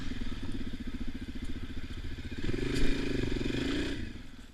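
A dirt bike's engine drones steadily as it rides along a wooded trail through trees, rising briefly in a louder rev while twigs and brush clatter and scrape around it.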